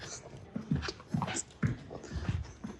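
Dakota, a dog, makes a run of short close whimpers and snuffling pants in quick irregular bursts, moderately quiet, with no one talking over it.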